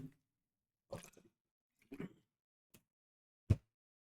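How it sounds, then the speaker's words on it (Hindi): A person drinking a little water: a few separate, soft gulps and swallowing sounds with short pauses between them, close and quiet, with no talk. "थोड़ा सा पानी पी लें।"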